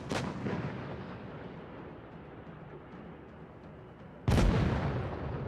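Tank cannon shells firing in the mobile game World of Tanks Blitz during a competitive esports match: a heavy booming shot opens the clip, a rumbling tail follows, and a second loud blast lands near the end.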